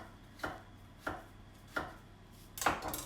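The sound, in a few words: thinly chopping vegetables for frittata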